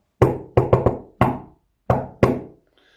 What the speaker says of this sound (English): Remember that knock?